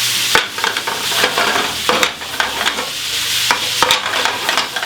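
Meatballs searing in a hot pan on the stove, a steady loud sizzle with occasional sharp clicks and scrapes as they are turned, no voices.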